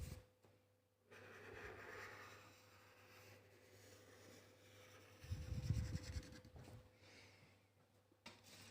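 Marker pen tracing outlines on paper for a rainbow cotton bud painting, a faint, soft scratchy stroking that comes in intermittent passes, with a short louder rub partway through.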